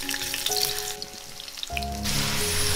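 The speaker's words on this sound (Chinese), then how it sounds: "接下来取个炒锅，加入适量油，油温热了，把配料放下来炸香" Chopped aromatics frying in hot oil in a wok, a steady close sizzle that swells louder partway through as more ingredients hit the pan, with faint tonal background music underneath.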